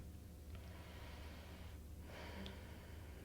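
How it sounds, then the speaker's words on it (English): A cleansing breath taken during a morning yoga routine for beginners: soft, airy breathing in and out close to the microphone, with a brief pause before a second breath, over faint background noise and no talking. "Maybe take a cleansing breath"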